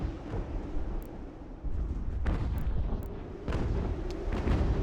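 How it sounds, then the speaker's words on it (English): Mortar fire in the video game Ultimate General: American Revolution, a continuous rumble of distant booms with a few sharper bursts standing out, no talking. "And again, we have mortars."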